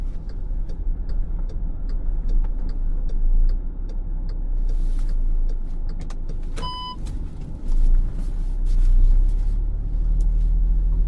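A car engine rumbles steadily at low speed while parking behind traffic controllers on a road, with a faint ticking indicator and a short electronic beep partway through.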